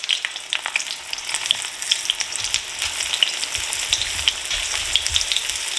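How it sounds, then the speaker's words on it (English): Frozen food fries in very hot, slightly smoking oil, a dense, close crackle and sizzle with sharp pops scattered throughout. "Let's see how these fry up from frozen."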